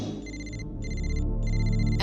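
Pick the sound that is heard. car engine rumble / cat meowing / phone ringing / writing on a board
phone ringing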